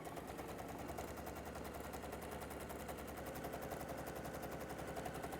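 Sewing machine stitching fabric, a steady rapid mechanical chatter with a constant whirring motor, continuous and fairly quiet throughout with no pauses.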